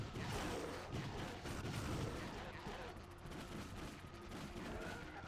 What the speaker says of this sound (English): If these are tranquilizer shots, then I'm using the same amount of tranquilizer on each single animal.